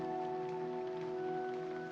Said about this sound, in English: The rain.